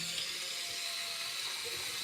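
Tap water runs in a steady, close hiss and splash into a sink while curly hair is being washed, continuous throughout with no talking.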